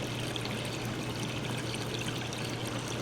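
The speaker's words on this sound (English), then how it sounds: "The pump is purging that air. See how it filled right up?" Water pouring and trickling steadily into a pool pump as it fills up from the pool and purges an airlock during preparation for pool closing, a constant even gurgling flow with no talk.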